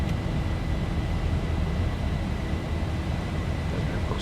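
A Boeing 737 airliner in X-Plane 11 speeds up with gear retracted, giving a steady, loud broadband jet roar with a low rumbling base that holds constant throughout, with no talk over it.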